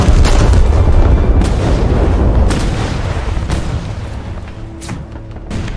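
Heavy cannon fire from a Maus tank and a battleship's 13.5-inch guns in War Thunder. Loud, close booms follow one another in quick succession, with sharp blasts over a rumbling roar that fades slightly before the last shots.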